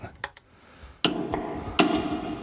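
A small screwdriver taps guitar pickups, giving a few sharp metallic clicks and knocks through an amplifier, each strike ringing out with a brief hum before fading, close and fairly quiet.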